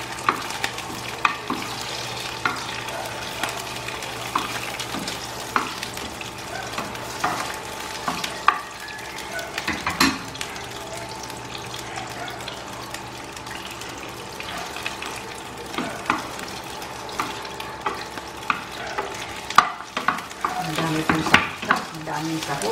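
Shrimp frying for chop suey in a pan, a steady dense sizzle with scattered clicks and stirring scrapes running throughout, fairly close and continuous.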